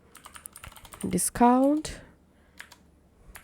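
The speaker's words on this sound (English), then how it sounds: "I'm typing here" Quick keyboard typing, a few soft scattered clicks, comes in brief bursts around a short burst of speech, with the keys sounding close but light.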